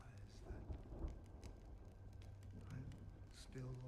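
Rain and thunder in the Honkai Star Rail video game, a quiet backdrop of steady rainfall with soft low rumbles, under game music tones and occasional brief effects.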